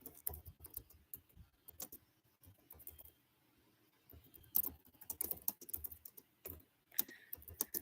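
Bursts of keyboard typing, close and crisp, with irregular clusters of key clicks separated by quiet pauses, picking up into denser runs toward the end, with no talking.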